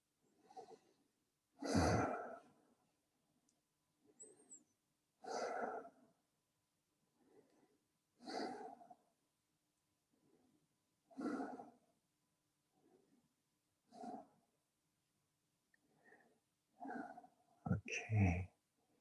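Deep breathing in a yoga class: slow, heavy breaths repeat every few seconds, each a soft rush of air, close and clear against a quiet room with no talking.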